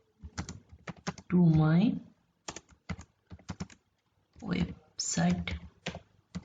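Clicky typing on a computer keyboard in short bursts of keystrokes, close and crisp, interleaved with someone talking between and over the taps.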